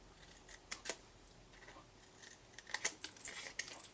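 Scissors snipping card to make a diamond-opening box lid: quiet, close, irregular small cuts in short clusters, faint and alone without talk.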